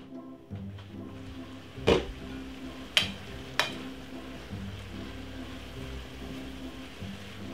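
Cabbage stir-frying in a pan over medium heat, a soft steady sizzle with a few sharp clacks of utensil against pan, close but fairly quiet.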